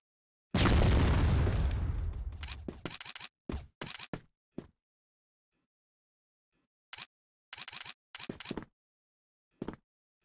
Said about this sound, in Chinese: 手雷来了！